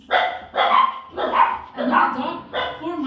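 A dog barks five times in a steady rhythm, loud and close, each bark sharp and evenly spaced.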